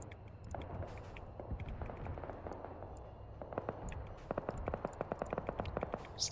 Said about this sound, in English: Still hear that cook-off of the 24.